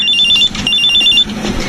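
A mobile phone rings close by with a bright electronic ringtone in two repeated bursts, separated by a short gap, over quiet background noise.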